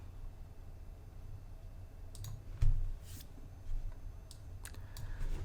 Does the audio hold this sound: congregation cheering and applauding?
no